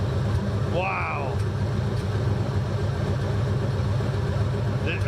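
A Chevy 350 V8 idles steadily with a continuous low rumble throughout, while a voice and a brief whistling tone sound over it.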